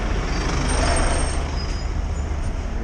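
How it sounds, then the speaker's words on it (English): A truck on a Sydney road, a steady loud rumble of engine and tyre noise close by, with a brief hiss, continuous traffic roar and no talking. "get past that truck"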